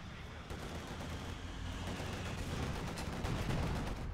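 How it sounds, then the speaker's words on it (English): Rapid gunfire from a Company of Heroes 2 battle between German and Soviet forces, a dense crackle of shots and distant blasts under a steady rumble, fairly faint. "Shot fired, missed."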